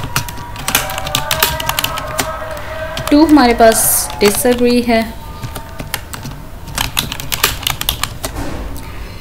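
Typing on a computer keyboard, with clusters of quick clicking keystrokes and a Tab key press, close by, running under someone speaking throughout.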